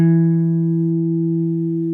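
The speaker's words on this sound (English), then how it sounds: "Ring finger, 3rd string down, 2nd fret. Press." A single guitar note fretted with the ring finger at the second fret of the third string, plucked once near the start and left ringing steadily with a slow fade, alone and clear.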